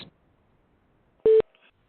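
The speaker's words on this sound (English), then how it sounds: "At the tone, please record your message." An answering machine sounds a single short electronic beep, clear and steady, preceded by near-silence and followed by a faint click.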